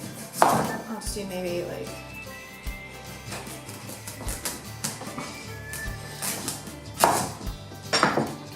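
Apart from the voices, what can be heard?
knife chopping butternut squash into small cubes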